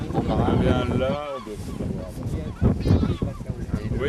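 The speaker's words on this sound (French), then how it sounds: "Vous avez surtout des goélands, 3 sortes de goélands." Herring and great black-backed gulls calling on open sands, harsh honking cries rising and falling close by, mixed with someone talking.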